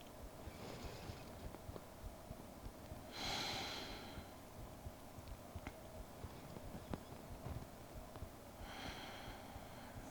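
Slow, deep breaths during a trauma-informed yoga session, with soft airy inhales and exhales spaced several seconds apart against a quiet background.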